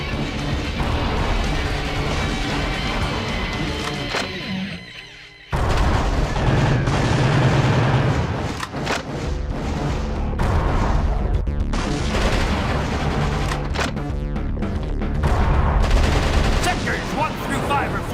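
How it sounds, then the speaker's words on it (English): Artillery fire from a gun battery in the video game Metal Wolf Chaos XD, a dense, loud barrage of booms and blasts that drops out briefly near the middle, then resumes with rapid repeated bursts over game sound. "Fire at the number 3 gun battery."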